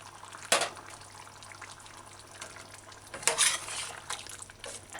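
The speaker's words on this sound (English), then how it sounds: "These broad beans are very soft, so I'm gonna stir in the pot gentle" A spoon gently stirring broad beans into a pot of beef stew, soft scraping and clinking against the pot with two brief louder knocks amid quiet liquid bubbling.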